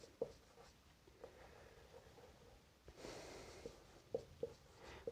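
Chalk or marker writing on a board during a maths lesson: faint scattered scratches and taps at an irregular pace, quiet and close, with no talking.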